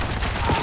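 Gunfire rattles in a video game, a dense rapid fusillade of overlapping shots throughout a short burst under a noisy, loud mix.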